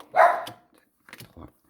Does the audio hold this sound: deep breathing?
no